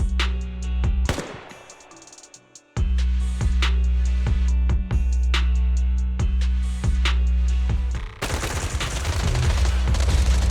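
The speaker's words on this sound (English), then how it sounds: "Gunfire? This pattern. Suppressive marching fire." Suppressive marching fire from a video game battle in Zenless Zone Zero: rapid, loud bursts of gunshots in a steady rhythm over a low droning score, briefly dropping out before resuming, then ending in a wash of noise.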